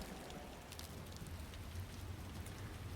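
Steady rain falls in the video game Final Fantasy IX, a faint, even hiss of rain patter continuing throughout with no talk.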